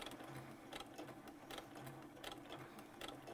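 Sewing machine stitching a vinyl wallet, a fast steady mechanical whir with rhythmic clacking pulses repeating about every three quarters of a second, close and quiet.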